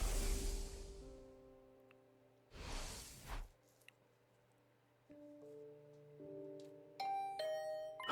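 A two-tone ding-dong doorbell chime in the video game The Hundred Line: Last Defense Academy, ringing out with sustained tones after a soft swoosh and a brief burst of noise, followed by a higher sparkling chime.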